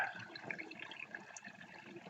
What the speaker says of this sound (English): I have managed to get that there down to a drip